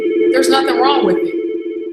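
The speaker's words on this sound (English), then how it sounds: "I apologize for the phone ringing." A telephone rings with a steady, continuous electronic tone throughout, close and fairly loud, while someone speaks over it.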